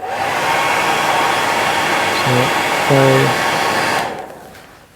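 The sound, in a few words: hairdryer blowing on a salmon fly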